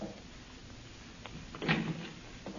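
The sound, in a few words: door being opened, radio drama effect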